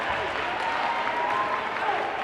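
A high school basketball crowd at a state tournament game roars and applauds continuously, a dense, loud wash of cheering voices and clapping in an indoor gym, with a commentator's voice faintly mixed in.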